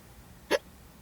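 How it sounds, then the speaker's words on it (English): A single short hiccup from a woman, sharp and close, standing alone against a quiet background. "Sorry, hiccups."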